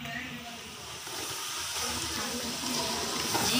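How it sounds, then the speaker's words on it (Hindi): Water poured into a cooking pot in a home kitchen while preparing a curry with tinda (round gourd): a steady, close hiss-like flow that holds for the whole stretch and grows slightly louder toward the end. "और थोड़ा सा पानी मैं इसमें ऐड करूँगी"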